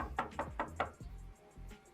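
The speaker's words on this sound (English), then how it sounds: "You move to your window when you hear a knock at the door." A knock at the door in the video game A Date With Death: four evenly spaced, fairly solid thumps, followed by a couple of softer, duller knocks over faint background tone.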